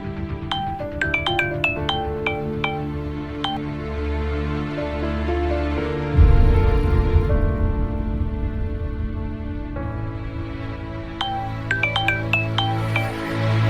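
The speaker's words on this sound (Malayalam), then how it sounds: "നീ ആ ഫോണിങ്ങതാ, ഞാൻ വിളിക്കാം." A phone ringtone rings while a call is placed, a repeating melodic chime with bright tonal notes, then a pause and the ringing resumes, heard over a steady background tone.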